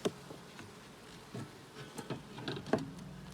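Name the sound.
bees buzzing around a beehive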